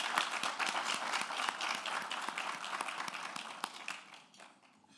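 An audience at a pharmacy awards ceremony claps steadily, a dense wash of handclaps with a few sharper individual claps, tapering off near the end.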